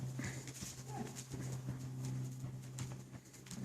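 Horse hooves trotting in an even rhythm during a riding lesson, a steady clip-clop carried under a continuous low hum, with faint bird calls in the background.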